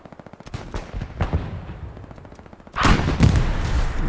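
Machine gun fire in a video game, heard first as quick rhythmic bursts of rounds and then as a louder, denser stretch of continuous fire, close and with no voices.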